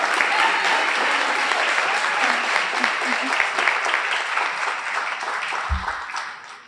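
An audience at a student leadership awards ceremony applauds award winners, with steady sustained clapping from many hands that holds for several seconds and slowly fades, with no voices over it.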